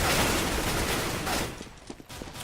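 Rapid gunfire crackles in a Counter-Strike: Global Offensive match on Dust 2, G2 against EnVyUs, with dense overlapping bursts that thin into scattered individual shots.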